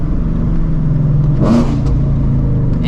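A supercharged New Edge Mustang GT rumbles loudly at close range as it pulls in, its deep steady engine drone swelling briefly in a light rev partway through.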